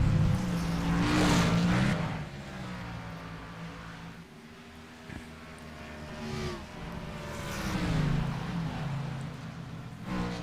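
A pack of Xfinity stock cars roars through a turn in a racing video game, engines rising and falling in pitch as several cars sweep past close by in waves.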